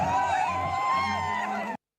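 Tourists celebrate on Mall Road in Manali amid falling snow, a lively crowd of cheering and overlapping voices that cuts off abruptly.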